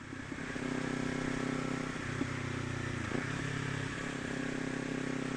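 A 2024 Kawasaki Ninja 500 motorcycle accelerates, its engine drone holding steady and close with a brief dip and rise in pitch partway through, under wind noise.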